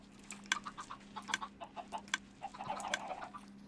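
Minecraft chickens on an automatic chicken farm cluck in short, repeated bursts, a handful of soft, close clucks spaced irregularly over a faint steady hum.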